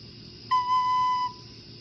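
A single clear, pure sustained recorder note B held steadily for under a second, fairly soft, with quiet room noise before and after.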